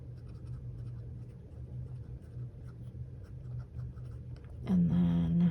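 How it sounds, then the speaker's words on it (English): A pen scratches steadily across the pages of an A5 planner, a faint, continuous scritching over low background hum, with a brief louder tonal sound near the end. "Making sure I'm writing in things properly."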